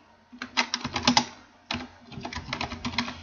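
A computer keyboard used to type a file name: two quick runs of crisp, close key taps split by a brief pause, with no voices.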